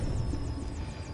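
A helicopter in the video game Call of Duty Modern Warfare gives a loud, continuous engine drone with a rhythmic rotor pulse throughout. No one talks.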